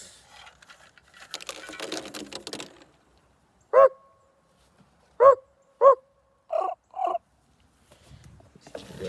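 A raven being fed peanuts gives five loud, hoarse croaking calls, one alone, then a quick pair and another pair, set against near silence with some rustling before and after.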